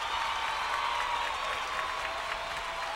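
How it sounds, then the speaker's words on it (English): Applause from a live show audience, a steady wash of clapping at moderate level lasting the whole short stretch without a break. "Almost missed the applause."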